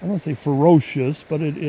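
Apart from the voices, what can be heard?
No distinct noise like a dog, phone or traffic.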